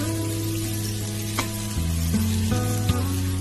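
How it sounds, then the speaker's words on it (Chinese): Minced scallion, ginger and garlic stir-fry in hot oil in a wok, giving a steady, dense sizzle with occasional scraping stirs, close and continuous, with a low hum underneath. "油热之后下入葱姜蒜末，翻炒"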